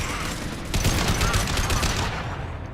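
Rapid automatic gunfire from the Harrier assault rifle in Mass Effect 2, a dense sustained burst of shots loud and close throughout, with battle noise and a voice faintly underneath.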